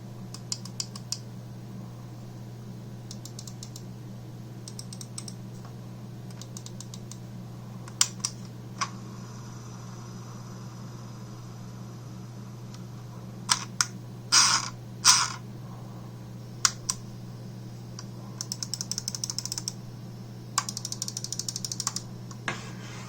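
Logitech G502 Proteus Spectrum gaming mouse buttons clicked in scattered sharp close clicks and short rapid bursts over a steady low hum, with no talk.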